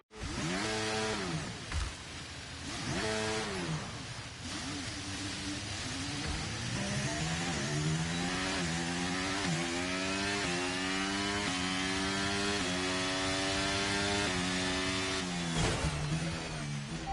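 A Formula 1 car engine keeps running after a crash, a loud high-pitched whine with rising and falling revs, blipping near and continuous throughout.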